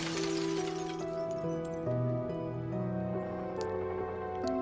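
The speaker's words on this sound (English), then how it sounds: "His face shatters and falls to the ground." A face shatters like glass in the fishing video game Dredge, a bright crash and tinkle of breaking shards over sustained, eerie musical tones that ring on afterward.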